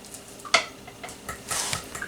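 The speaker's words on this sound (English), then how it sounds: "we stir up this mixture" A vanilla and warming-spice mixture is stirred by hand in a bowl, giving a few soft, irregular clinks and scrapes at close range against a quiet background.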